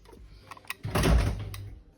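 A garage door in a house is operated and jams, giving a single heavy rumbling scrape with a low thud that swells and fades over about a second, preceded by faint knocks.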